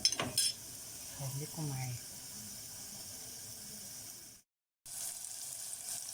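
Ghee sizzles steadily in a pan while the stuffing mix for stuffed grape leaves cooks, a constant close hiss beneath someone speaking briefly, then a short cutout before the frying resumes.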